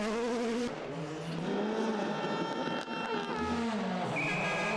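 Hyundai i20 rally car racing through the streets of Tartu at Rally Estonia, engine revving and rising in pitch as it accelerates and shifts, passing fairly close, with no talk.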